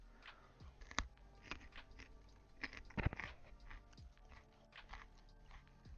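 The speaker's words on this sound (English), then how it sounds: "I'm eating some carrots as my snack." Snack carrots crunched while eating: a quiet run of crisp bites and chewing, with a few sharper crunches standing out and no talk.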